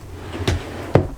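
A makeup drawer in a bathroom vanity slides and bumps shut, two close, sharp knocks about half a second apart over a soft hum.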